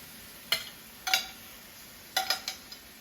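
Green beans with onions and mushrooms are tossed with tongs in a pan. A few sharp metallic clinks and scrapes land in small clusters over a quiet background, close and fairly soft.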